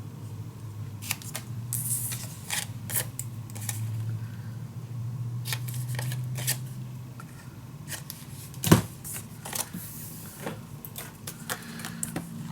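Scissors snip through patterned scrapbook paper for a mini album in a series of quiet, crisp cuts with paper rustling and handling noises between them, one louder clack partway through.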